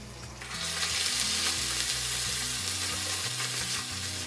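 Tuna hits a pan of softened, translucent onions and sizzles steadily and loudly as it fries, a continuous crackling hiss with nobody talking.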